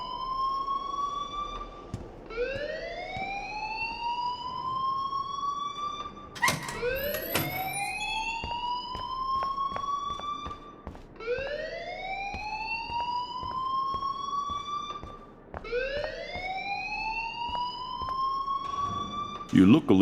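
A school alarm in Life is Strange rings on and on, rising whooping tones repeating roughly every four seconds with sharp clicks between, loud and continuous throughout.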